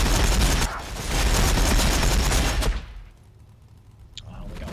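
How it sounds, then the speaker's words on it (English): Ork Warbikers in Warhammer 40,000: Battlesector fire a loud, sustained burst of gunfire that cuts off abruptly, leaving a quieter stretch before the noise swells again. "Warbiker's firing, boss!"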